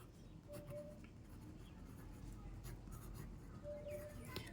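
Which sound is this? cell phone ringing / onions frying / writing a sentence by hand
writing a sentence by hand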